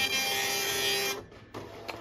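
A re-capped Tandy DMP133 dot matrix printer whirs and buzzes steadily at close range, then drops away abruptly partway through before a shorter, quieter burst of mechanical printing noise resumes.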